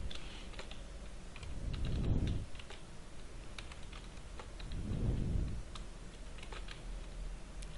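Keys clatter on a computer keyboard in steady, close typing that runs throughout, with two soft low rumbles swelling underneath.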